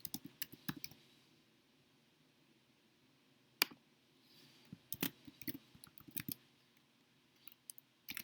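Allergen text being typed into form boxes on a computer keyboard, quiet irregular clusters of close key clicks with pauses between bursts.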